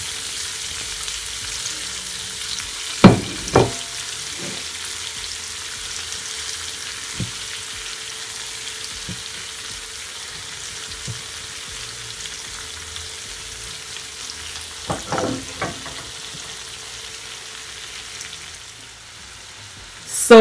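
Garlic butter shrimp sizzle steadily in a hot pan, a soft continuous frying hiss with a few sharper clatters as the pieces are turned, running alone without talk.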